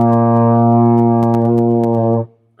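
A low B flat held as one steady, full brass tone on a trombone or euphonium, sustained about two seconds with light clicks over it, then cut off abruptly, no voices.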